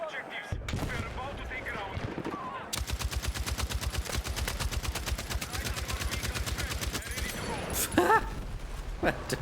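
Battlefield automatic gunfire rattles in a long, rapid, evenly spaced burst after some scattered shots, loud and close, with talk around it.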